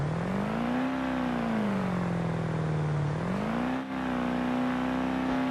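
A car engine in the BeamNG driving game held at full throttle, a loud steady droning whine that sags and climbs in pitch as revs shift, with one short break partway through and no talk.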